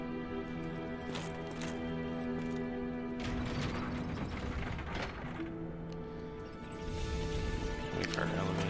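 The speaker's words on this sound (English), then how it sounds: "Wait for our elevator." Elevator machinery in the Hollow Knight video game grinds and clanks with a rhythmic ratcheting mechanism, sustained mechanical hum over about nine seconds, with a voice talking over parts of it.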